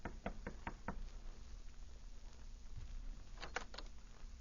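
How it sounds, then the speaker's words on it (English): Someone knocks on the door of a hotel suite: a quick series of four sharp raps, a pause, then another short burst of three knocks, moderately close against a faint background hiss. "White knocked on the door of her suite the following evening"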